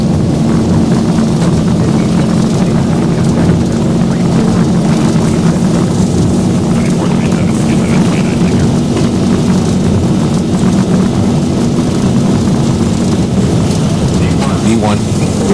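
Steady airliner engine roar during the takeoff roll in the X-Plane 12 flight simulator, a constant loud drone with a low hum, unbroken throughout, with talk over it.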